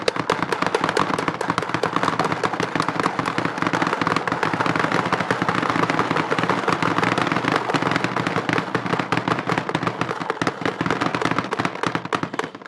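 JT Triad paintball loader feeding balls as a paintball gun fires: a loud, close, dense rapid string of shots with whirring, continuous for about twelve seconds before stopping.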